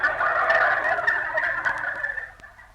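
A turkey gobbling loudly and close in a comedy radio dream scene, one long rattling gobble that tapers off over a couple of seconds with no talking.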